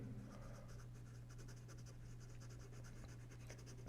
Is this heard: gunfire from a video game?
no